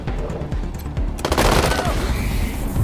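Rapid bursts of gunfire ring out in the video game Wasteland 3, with a quick run of sharp shots followed by a heavier, louder blast that trails off.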